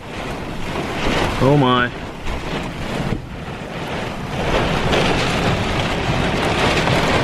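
Strong wind buffets and roars around an RV during a severe thunderstorm, a dense, loud rushing that surges and eases, with a brief voice exclaiming over it.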